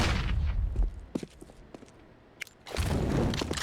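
Frag grenade blast in Counter-Strike on the Vertigo map, a loud burst at the start, then scattered gunfire and thuds through a quieter stretch before a second heavy rumble.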